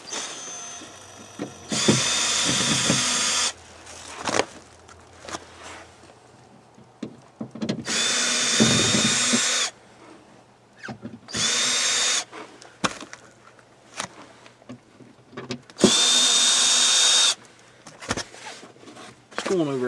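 A power drill backs screws out of an RV wall panel beside a Suburban water heater, in four loud bursts of a couple of seconds each, separated by clunks and handling noise. A voice talks at times between the bursts.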